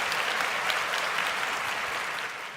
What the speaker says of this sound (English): Give that man some applause.